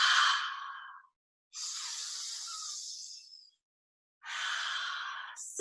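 Deep, slow breaths during a meditation session, heard as three long, airy breath sounds, close and clear, with short silent pauses between them.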